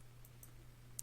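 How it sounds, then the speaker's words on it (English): A mouse button clicks on a browser tab, a quick pair of crisp clicks right at the end after near silence in a quiet room. "clicking on the tab"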